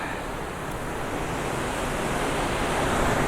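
A raging, dangerous river rushing past in a steady, dense roar of broadband water noise, loud and unbroken with no voices.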